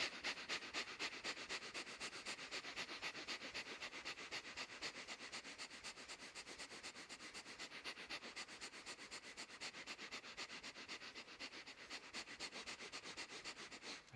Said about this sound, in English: Breath of fire, 1 minute.